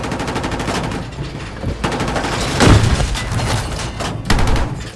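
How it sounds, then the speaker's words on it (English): A tank in a Battlefield video game fires a high explosive round, a loud close boom amid rapid bursts of gunfire and rattling impacts. "I fire my loaded high explosive round and switch to AP"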